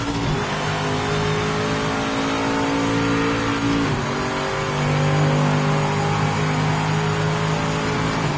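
Race car engine in the racing video game Project Motor Racing, a loud continuous drone with rising and falling revs and a brief gear-shift dip partway through, no voices.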